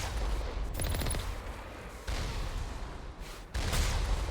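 Geth turret gunfire in Mass Effect Legendary Edition, dense rattling bursts of shots with loud booming impacts, continuous and close, swelling again near the end.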